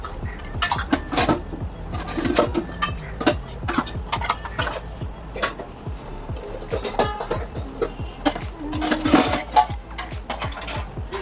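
Dishes, pots and cutlery clatter and scrape as they are washed in a home kitchen. The knocks and clinks come steadily and close throughout, with no speech.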